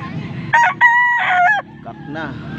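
A Gilmore Hatch rooster crows loudly and close, one drawn-out cock-a-doodle-doo call followed by softer clucks, over faint background noise.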